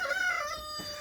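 A rooster crows on a family farm, a single drawn-out, strained call that fades toward the end, heard fairly close with no talking.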